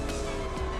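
Tires squealing as a car drifts in Gran Turismo 7, a short continuous screech over engine roar lasting under a second.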